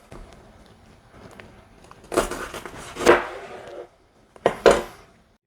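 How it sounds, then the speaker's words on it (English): A knife chopping jalapeno peppers on a cutting board: three or four distinct crunchy chops in the second half, after a quiet stretch of light handling noise. "And chop up 2 jalapenos."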